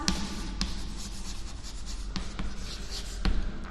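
Chalk scraping across a classroom blackboard in steady strokes, with a few sharp taps where it meets the board, close and fairly loud, and no one talking.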